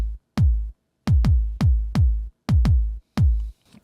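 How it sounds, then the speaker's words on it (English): A dance kick drum sample in G sharp major fires about eight times in an irregular pattern, each hit a deep, booming thump with a short decaying tail. The hits are loud and dry, with no voices. "Dance kick, G sharp major,"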